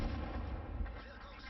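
Heavy tank gun blasts in a tank video game, a dense, booming roll of fire filling the short moment at close range.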